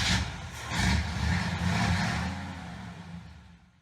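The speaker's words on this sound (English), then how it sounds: "Let's start the truck and get into it." A truck engine cranks and catches, then settles into a rough, rumbling idle close by that gradually fades.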